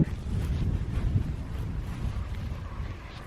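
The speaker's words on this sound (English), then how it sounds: "The wind at times was so strong that I thought my easel was gonna blow over even though I have it weighted down" Strong outdoor wind gusts across the microphone during plein air painting in the California hills, a loud, low buffeting rumble that swells and eases irregularly without voices.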